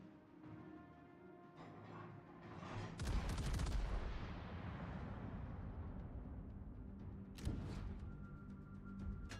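Naval gunfire in World of Warships: a heavy booming salvo erupts and rolls into a long rumbling tail, followed by another sharp report later, loud and close over a low ambient game hum.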